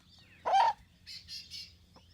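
A backyard hen raising a chick lets out one loud, harsh alarm squawk at close range, followed by three softer, higher chirps.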